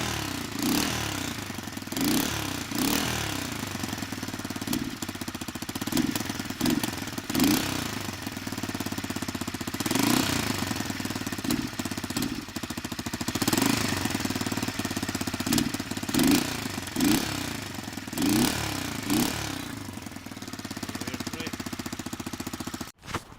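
Kinroad XT125GY motorcycle engine running steadily with a rusty, leaking exhaust, a loud close chugging idle with rhythmic puffing and knocking pulses throughout, no talk.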